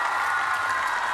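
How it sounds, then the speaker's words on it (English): A home crowd cheers and applauds steadily at a women's artistic gymnastics World Challenge Cup in Koper, a dense, loud wash of clapping and voices throughout with no distinct individual calls. "We are hearing a cheer from the audience"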